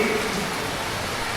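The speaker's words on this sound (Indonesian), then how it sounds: "Suara hujan ini masya Allah" Steady rain falling, a dense hiss of drops filling the background evenly, with a voice faintly present over it.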